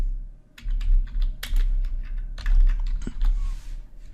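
Clattery typing on a computer keyboard in quick irregular bursts of keystrokes, close and fairly loud, with brief pauses between runs and no talking.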